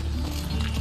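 A horse's hooves clip-clop in The Witcher 3: Wild Hunt, a steady trot under a dense game soundscape with a low background hum.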